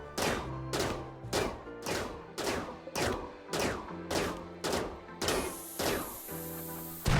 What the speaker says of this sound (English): After a bit of brute force and charge rifle surgery, Sarah managed to cause the core of the wreckage to explode